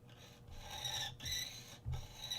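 A small file rasps back and forth in a Gibson Les Paul guitar nut slot, three or four short close strokes with brief pauses between, a dry gritty scraping without speech.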